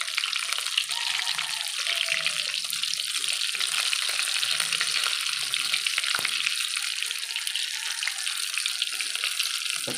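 Cordon bleu sizzling in a pan of hot oil, a steady dense crackle and hiss throughout with no talk.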